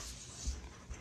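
A dog whimpering on a couch, soft faint whines and small yips over a quiet room, brief and close.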